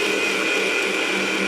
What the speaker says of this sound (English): I'm going to blend this together